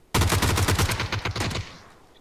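Rapid automatic gunfire in the game PUBG: a sharp burst of about a dozen close, loud shots in quick rhythm, ending abruptly and trailing off into a fading echo.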